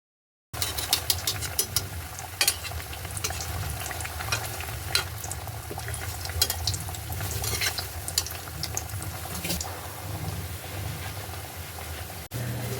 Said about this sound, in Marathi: तेल गरम झालेलं आहे. आपण त्यात वडे सोडूयात.